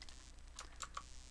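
Faint, close keyboard clicks, four or five separate key taps spread over a second or so against a low steady computer hum, as Ctrl D is pressed in Unity3D.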